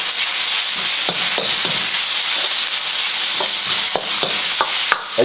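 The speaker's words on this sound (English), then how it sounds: "The thing about wok cooking is that it's done at a high temperature. And so it cooks and sears your meat very quickly." Beef stir-frying in a hot wok, a steady loud sizzle with repeated scraping and tossing clatters of the spatula against the pan throughout.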